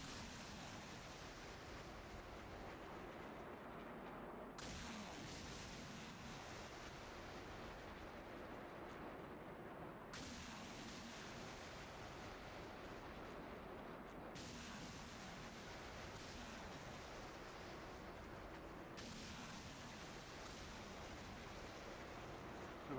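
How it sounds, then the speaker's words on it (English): HIMARS rockets launch in a 24-round full battery salvo in the DCS World flight simulator, heard as a continuous roaring rush. Several abrupt shifts in intensity mark successive launches, loud and sustained throughout. "we are ready for 24 shots of HIMARS rounds. This will be a full battery unload"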